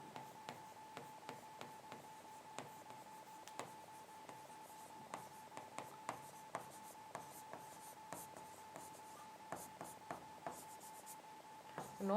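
Chalk or marker strokes tap and scratch on a board during a chemistry lesson, a series of short, regularly spaced clicks over a faint steady background hum, close and quiet, with no speech.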